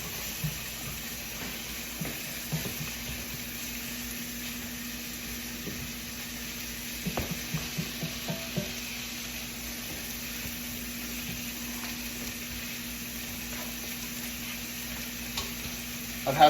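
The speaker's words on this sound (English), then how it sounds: "Try to brown up that bacon first" Bacon browns in a pot with a steady, continuous sizzle and occasional faint stirring clicks, close and without talk.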